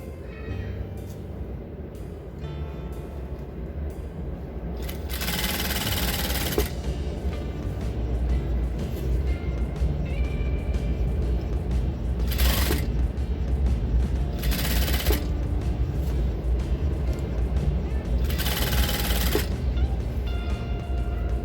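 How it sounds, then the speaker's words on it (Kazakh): A sewing machine stitching fabric, a continuous close mechanical whir and rattle with several louder bursts of rapid clatter as it runs in spurts, no talk. "Енді машинка тігісте тігіп аламыз."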